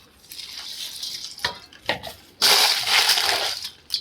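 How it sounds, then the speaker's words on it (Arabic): Water poured into a bowl of rice while mixing fishing bait dough: splashy, hissing bursts of pouring come in short spurts, then one longer, louder pour, with faint clinks of the container. "ونحط المية بتاعتنا، المية بتاعتنا يا رجالة"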